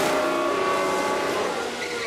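F1 cars in the F1 Manager 24 video game come into the pits at Silverstone, with a steady, loud, high engine whine and a faint tyre squeal. The whine tapers off slightly at the end.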